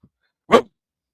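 A person imitates a dog with a single short, loud bark-like yelp, standing alone after near silence.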